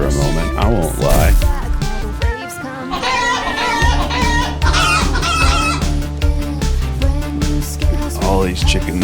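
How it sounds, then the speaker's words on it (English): Cartoonish chicken clucks and rooster-like crowing from the video game Cassette Beasts play loudly over game music, with a person talking throughout. "All these chicken noises are funny."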